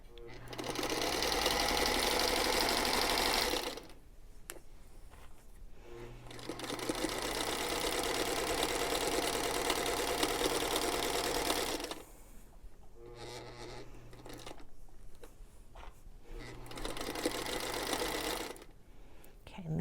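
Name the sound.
sewing machine stitching quilt fabric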